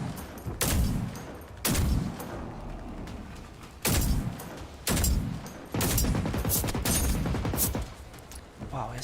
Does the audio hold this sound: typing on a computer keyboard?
no